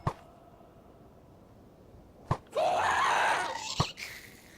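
A ghast from the video game Minecraft lets out a long, wavering, high-pitched wail midway, framed by a few sharp thuds before and after, over a quiet background with no speech.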